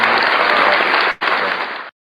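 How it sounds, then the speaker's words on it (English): Loud, dense audience applause, close and continuous, briefly cut off near the middle before resuming and then stopping abruptly. "give yourself an applause"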